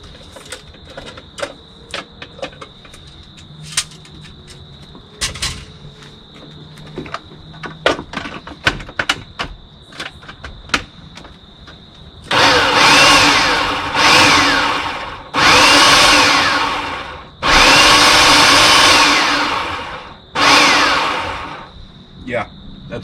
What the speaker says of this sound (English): We're just going to throw them right here in the food processor. We're going to pulse these up and mince them down